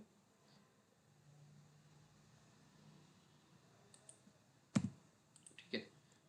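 A few sharp computer mouse clicks, quiet and close, spaced irregularly over a faint low hum, with no talking.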